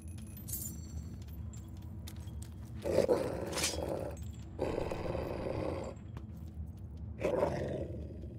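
Dog growling in the video game Fable 3, three rough snarling bursts rising over a steady low game ambience, fairly close and moderately loud, with quiet stretches between them.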